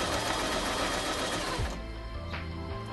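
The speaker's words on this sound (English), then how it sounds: "By pressing your presser foot, you can then start sewing." A Kreshay sewing machine runs at speed in a continuous, dense mechanical whir that eases off and settles slightly lower near the end, close up with no talking.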